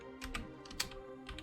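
Quick bursts of typing on a computer keyboard, a few irregular clusters of close, crisp key clicks over about a second and a half, with no voices.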